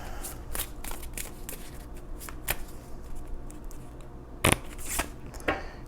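Tarot cards being shuffled by hand, crisp riffling bursts and soft slides repeating irregularly, with a few sharper flicks and taps, close and clear with no talk.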